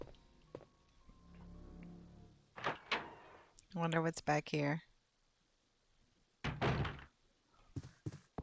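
In Resident Evil 2 (1998), a door opens with a few dull thunks and creaks between stretches of someone talking, fairly close and moderately loud.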